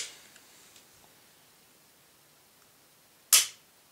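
A Glock 27 .40 S&W pistol, just reassembled with a double recoil spring, gives one sharp, loud metallic snap of the slide and trigger being function-tested, nearby and alone after a few faint ticks.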